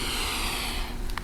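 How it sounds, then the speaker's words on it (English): During yoga practice a person lets out one long, full breath, a close, steady airy rush that fades near the end, with no talk. "Complete breaths in"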